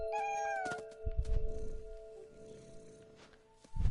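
A cat in the video game What Remains of Edith Finch gives a clear meow at the start, followed by softer thumps and faint game ambience, with a short noise burst at the end.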